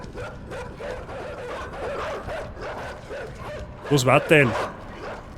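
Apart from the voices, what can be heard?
dogs barking in a video game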